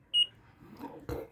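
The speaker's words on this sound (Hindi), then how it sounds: "फ्रेंड्स इसको आप ध्यान से सुनिए, ये डबल बीप है, ये ऑफ वाला बीप है" A talking silver wrist watch with a metal strap gives a short electronic beep, followed by faint handling clicks and a soft knock, close and quiet.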